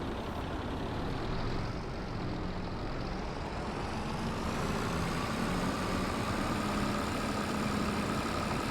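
A tractor in a farming video game idles steadily, a low, even engine drone that holds at a constant level throughout with no talking.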